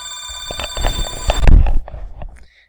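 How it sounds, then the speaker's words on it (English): A telephone rings nearby, a bright electronic trill with tonal bursts repeating in quick succession, loud and close, then fading out near the end. "And the phone rings again"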